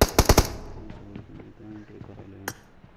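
Gunfire in Call of Duty Warzone: a sharp burst of three or four close shots at the start, then quieter game noise and speech-like chatter, with one more crisp shot near the end.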